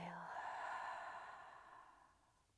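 A single slow, soft exhale during a breathing meditation, breathy and close, drawn out and gradually fading over about two seconds in a quiet room.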